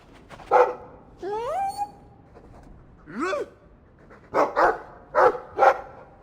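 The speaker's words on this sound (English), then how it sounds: "I like the doggy." A dog in the video game Dragon Age II gives several short barks and yips, close and clear, grouped in bursts across the clip with brief pauses between them.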